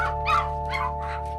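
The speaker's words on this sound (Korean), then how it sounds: "개 짖는 소리가 들립니다." A dog barks inside a pitch-dark plastic greenhouse at an abandoned house, giving three short, muffled barks over a steady electrical hum.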